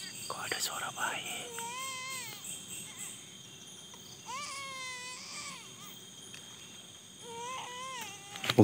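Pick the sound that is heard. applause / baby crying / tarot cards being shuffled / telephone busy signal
baby crying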